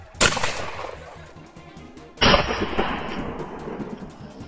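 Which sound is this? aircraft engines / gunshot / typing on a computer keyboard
gunshot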